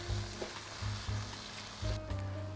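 Chopped vegetables for seafood capcay sizzle steadily in a hot pan while a utensil stirs them, giving a few evenly spaced scraping, tossing strokes over the continuous frying hiss, close and fairly loud.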